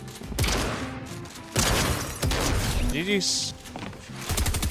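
A green auto shotgun in a battle-royale video game fires several rapid booming blasts in bursts, loud and close, mixed with game effects and a player's voice talking over it.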